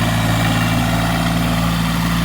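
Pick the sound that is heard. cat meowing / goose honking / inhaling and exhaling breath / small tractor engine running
small tractor engine running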